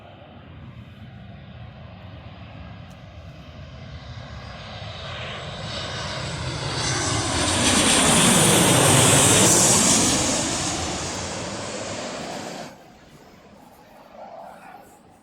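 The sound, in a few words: Jet2 Boeing 737 jet landing at Birmingham Airport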